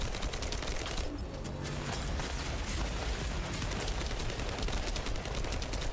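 Dense, continuous gunfire rattles through a video game boss fight against The Dead Bride, rapid shots and blasts layered into a loud, unbroken barrage with no talk.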